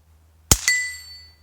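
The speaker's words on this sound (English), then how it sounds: "the ring on the gong is loud" A CCI CB short .22 round fired from a Henry Golden Boy .22 rifle strikes a steel gong target on an outdoor range: one soft pop followed at once by a bright metallic ring that decays slowly.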